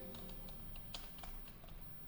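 Quiet clicking on a computer keyboard while a customer address is typed into jewellery shop billing software, a light, irregular patter of keystrokes with no talk.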